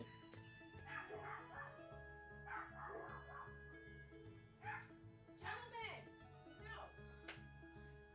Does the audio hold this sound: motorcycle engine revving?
no